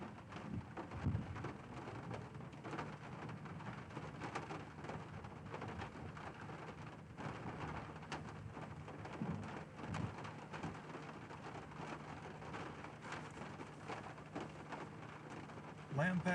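Steady, heavy rain hisses through a severe Texas thunderstorm without a break, with faint low thunder rumbling underneath.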